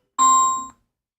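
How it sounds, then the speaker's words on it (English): A single electronic phone ring burst with steady tones, loud and close, lasting about half a second and then stopping, with no talk over it. "And now my phone begins to ring"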